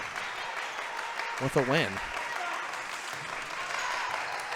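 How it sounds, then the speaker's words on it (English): Bulldogs fans at a high school volleyball match applauding and cheering from the stands, steady crowd clapping throughout with a brief whistle-like swoop, under a commentator's voice. "The Bulldogs fans on their feet cheering their team on"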